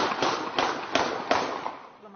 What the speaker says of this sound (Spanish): Le dispararon en 7 ocasiones.